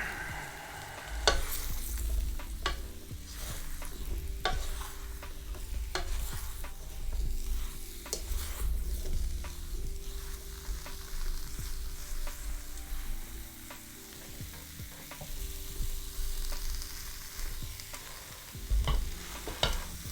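Beef sizzles as it fries in a pan for beef stroganoff, while a utensil stirs and scrapes in irregular strokes for about twenty seconds. The sizzle holds steady throughout and no one talks.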